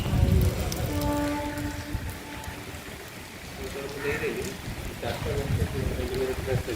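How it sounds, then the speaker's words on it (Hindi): Rain falling in Balasore, a steady patter of drops on surfaces with faint wind, heard under a news narrator's voice and some tonal background sound. "बालेश्वर में वर्षा जारी रही"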